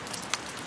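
Rain falls at dawn as a steady, soft hiss of drops with a faint brief patter, low in level and without voices.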